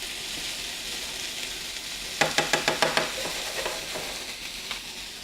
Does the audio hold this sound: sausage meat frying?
yes